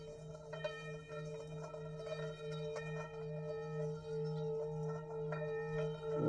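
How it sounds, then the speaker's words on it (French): Tibetan singing bowl rubbed around its rim with a stick, giving a steady sustained ringing drone with strong layered harmonics, close and fairly loud throughout with faint pulsing overtones. "Si je fais tourner le bâton à la tangente du bol"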